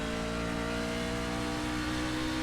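In the iRacing sim, a C-Fixed race truck at Bristol Motor Speedway pulls hard on throttle, its engine a steady, loud, dense roar with layered harmonic whine throughout, no talking.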